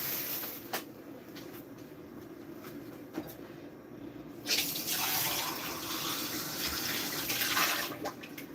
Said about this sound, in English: I keep turning on the water every 5 minutes